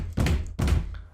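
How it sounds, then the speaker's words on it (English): Two heavy thuds about half a second apart, like fists banging on a door, loud and close with no talk. "this time they're banging on the door"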